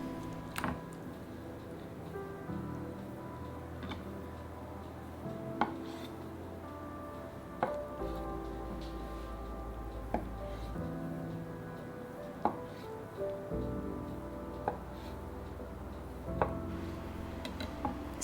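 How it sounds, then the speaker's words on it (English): A knife cuts through a block of firm organic tofu on a board, giving a slow series of soft, distinct thuds spaced a few seconds apart, quiet and close with no talking. "we're going to cube 1 block of firm organic tofu"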